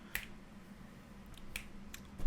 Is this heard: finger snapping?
yes